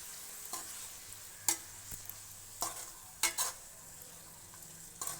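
Spoon scraping and stirring washed brinjals into a sizzling vangi bath masala mixture in a pan, a few sharp clinks against the pan over a quiet frying hiss, spaced irregularly and close.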